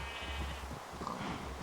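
A sheep bleats in the video game Minecraft, a short wavering call heard once over a steady low background.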